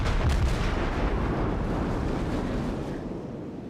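Naval gunfire from a warship video game: one heavy, booming shot with a low rumbling blast at the start, followed by a long, loud, dense roar that slowly fades and carries no talk.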